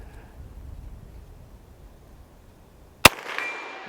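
Henry single shot rifle fired once at a swinging steel target outdoors, a single sharp loud crack after quiet wind noise, followed by a faint metallic ring from the struck target.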